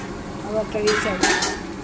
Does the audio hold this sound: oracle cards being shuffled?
no